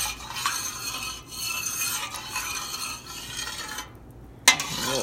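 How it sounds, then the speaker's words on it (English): A spoon stirs a milk mixture in a pot while feta cheese is being made, giving a steady scraping swish that keeps going for several seconds, close and moderately loud, then a brief sharp clink near the end. "A little extra mixing."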